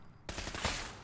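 Burst of rapid gunfire in Fallout 4, an abrupt loud volley starting after a short quiet lead-in, with a sharper crack near the middle.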